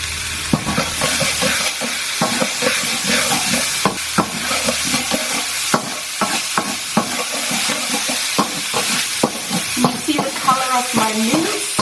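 Minced meat sizzles in a hot pan with fish sauce and sugar while a utensil scrapes and stirs it in frequent sharp clicks over a steady crackling fry, close and loud.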